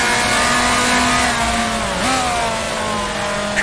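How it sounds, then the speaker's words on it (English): A 1966 Formula 2 racing car in the Grand Prix Legends game holds a loud, steady high-pitched engine note that dips and climbs briefly with a gear change, then settles. "Try not to over rev, just let the engine settle"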